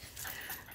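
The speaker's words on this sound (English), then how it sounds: "And our dog is losing it." A pet dog named Coco pants quickly and faintly, with a soft whimpering whine, in a brief close burst.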